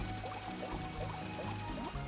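Watering a plant in Super Mario Odyssey gives a soft, steady liquid pouring and gurgling sound with light bubbly blips, faint in the game's audio.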